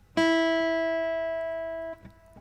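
A single open high E string on a guitar is plucked once and rings clearly, sustaining steadily for about two seconds before it is damped.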